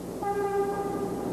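A New York subway train rumbles along toward Midtown with steady droning wheel noise and a sustained tonal whine, fairly close and continuous, with no voices.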